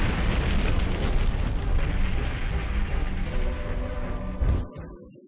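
A huge, sustained roaring explosion of the Arms Fort Great Wall in the game Armored Core: for Answer, with dense rumbling blasts that continue for several seconds before a final burst and abrupt cutoff.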